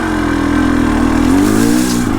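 A HengJian Z300 S7 Chinese two-stroke motorcycle engine revs steadily up and down close by, its buzzing drone rising and falling continuously for a couple of seconds with no talk over it.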